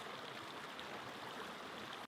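A small stream flows with a close, steady rush and babble of water, unbroken until it cuts off abruptly at the end.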